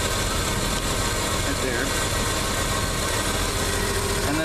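Steady, close idle of a simple 1949 Chevy pickup engine with a new fuel pump and water pump, a constant mechanical drone with someone speaking briefly over it.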